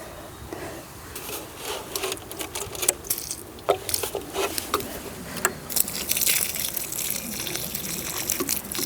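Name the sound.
water poured into planting holes while gardening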